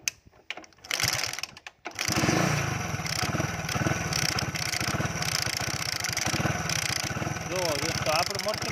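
Someone kicks a repaired motorcycle at a farm in a few sharp, uneven attempts. The engine then catches and runs steadily with a loud, rapid, regular putter, and a voice is heard over it.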